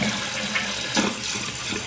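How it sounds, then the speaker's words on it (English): Toilet flushing after a flapper replacement, a continuous close rush of water with no talk. "It's done filling, so we're going to give it a flush."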